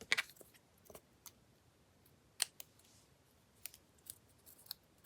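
Scissors snip a few times over about five seconds, sharp isolated cuts while trimming, with quiet pauses between the closer, crisper clicks.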